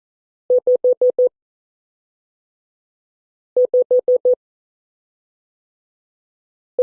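Morse code tones for the digit 5, five short even beeps at a steady mid pitch, played as a clean group that repeats after a pause, alone with no other sound.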